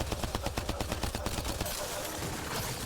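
Rapid automatic gunfire bursts in a cave fight in Mass Effect: Andromeda, a fast regular stutter of shots for over a second before fading into a dense, rumbling wash of combat noise.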